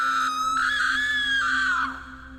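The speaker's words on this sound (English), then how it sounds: "a blood-chilling scream echoed from upriver" A woman's blood-chilling scream echoes from upriver, one sustained high shriek held for about two seconds before it falls away and fades, loud and alone with no talking.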